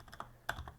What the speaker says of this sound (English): And let's type here like select grids,